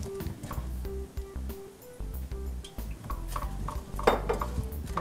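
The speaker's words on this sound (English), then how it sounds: "I'm going to stir this all up" Rice being stirred in oil in a pan for a butternut squash risotto, with repeated scraping and clinking of a utensil against the pan, moderately close, with sizzling underneath and no talking.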